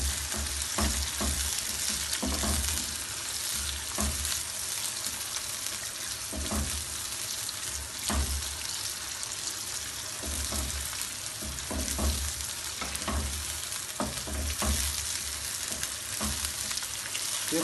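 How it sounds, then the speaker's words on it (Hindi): Onion and chicken sauté in hot oil over high heat, a steady loud sizzle with recurring scrapes and clatters of stirring spaced every second or two, close by and with no talking. "अब हम इसमें प्याज शामिल करेंगे और इसके साथ ही हम चिकन शामिल कर देंगे। ये तेज़ आग पर हमने सौते करना है।"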